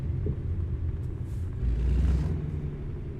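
Truck engine in American Truck Simulator rumbling steadily on a scenic drive near Mono Lake, a deep continuous drone that swells slightly halfway through, with no talk over it.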